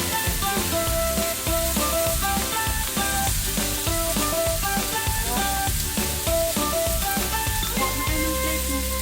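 Marinated pork sizzles loudly as it cooks for home samgyupsal, a dense continuous frying crackle with background music playing over it.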